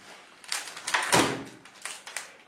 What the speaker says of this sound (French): Je ferme la porte.